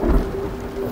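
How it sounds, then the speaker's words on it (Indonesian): Thunder rumbles low and heavy through a steady roar of heavy rain, with a deeper swell near the start and no voices. "Wah, ada petir juga kan."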